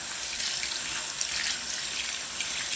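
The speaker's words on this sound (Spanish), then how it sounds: "Ahora ya podemos abrir nuevamente el grifo y retiramos el jabón" Water runs steadily from a sink tap as soap is rinsed off hands, a continuous close splashing hiss with no talking.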